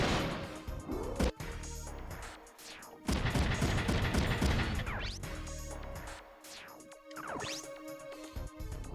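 Gunfire in a Front Mission 3 mech battle, with sharp cracks, bursts of rapid fire and heavy crashing impacts coming in uneven clusters, loud and close.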